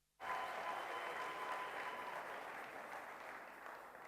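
Audience applause at a church service, a sustained burst of clapping from a crowd that starts abruptly and holds steady throughout, fairly even and unbroken, with no talking over it.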